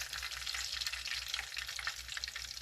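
A beef patty fries in a pan with a soft, steady crackling sizzle, faint and continuous with small pops throughout and no talking.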